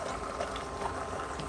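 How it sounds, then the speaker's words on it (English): Eggs sizzle and crackle in hot oil in a pan, a steady close spitting hiss throughout. "we're going to move the oil around a little bit, and we're going to throw in the eggs"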